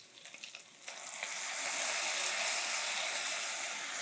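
Meat stir-frying in a pan with pepperoncino, oil and soy sauce makes a soft crackle that swells into a steady, hissing sizzle, close but fairly quiet and uninterrupted.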